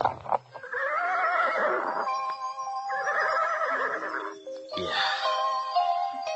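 Horse neighs and whinnies in long, loud, wavering cries, three drawn-out calls separated by brief pauses, the animal close by and heard alone.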